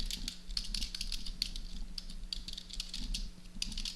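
Steady, close keyboard clatter from a computer, with rapid irregular keystrokes running throughout and no voices.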